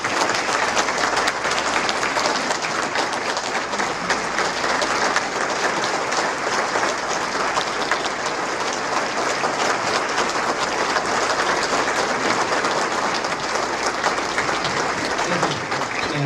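Sustained, steady audience applause welcoming Lieutenant Thomas Burke at a veterans event, loud and continuous throughout with no voices standing out above the clapping.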